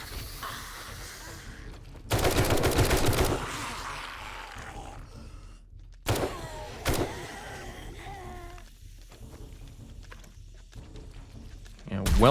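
Several loud bursts of gunfire in 7 Days to Die, sharp rattling volleys with quieter stretches of ambient noise and shuffling between them, plus a final burst at the end.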